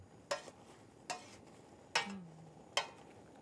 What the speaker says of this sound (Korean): 그래도 한 번씩 이렇게 볶아주세요